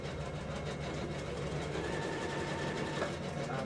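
A domestic sewing machine runs a steady stitching line along the seam allowance of a jacket sleeve, its motor whirring continuously and fairly close, with a faint higher whine joining toward the end.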